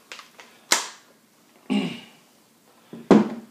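Three sharp mechanical clacks spaced about a second apart, the folding stock of a Sig 556 rifle snapping and locking into place, close and fairly loud with quiet gaps between.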